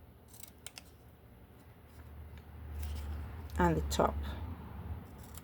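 Scissors trim a small sliver from craft paper for a handmade piano explosion box, a few quick snips close up under a speaking voice.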